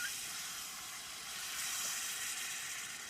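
Beer poured into a hot pan while cooking in a vehicle, giving a faint, steady sizzling hiss that rises slightly partway through, with no talk.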